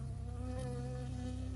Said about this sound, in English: I got stung by a bee.